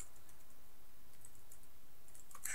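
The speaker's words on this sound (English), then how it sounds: "He's typing." Faint, scattered clicks of someone typing on a computer keyboard, quiet and close against a soft background hiss, with no talking.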